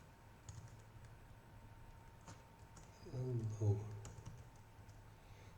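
Someone types HTML and CSS on a computer keyboard in a short, quiet burst of soft clicks, close by and faint, with a brief spoken word and room hum around it.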